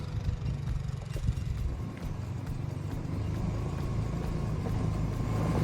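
A 4x4 UTV pulling away on a ranch, its mid-pitched engine rumbling steadily at moderate volume over a low outdoor background, with no voices.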